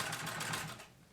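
A Singer 66-18 treadle sewing machine stitching denim runs in a quick, even rhythmic clatter that stops after about a second, leaving a quiet room.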